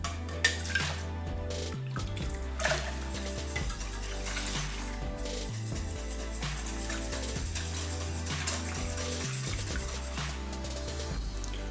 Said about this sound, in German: Dann gebe ich die gleiche Menge an Brühe rein, was ich an Milch-Sahne reingegeben habe.